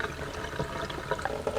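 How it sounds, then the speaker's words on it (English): Water splashes and pours steadily into a pot of rice being rinsed for Cameroonian jollof, a close continuous watery rush. "I'm not doing like a very rigorous washing here, just putting in more water"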